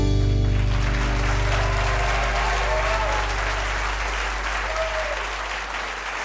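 An audience at the eTown Hall radio show applauds to welcome host Nick Forster, a sustained burst of clapping from a crowd that slowly fades.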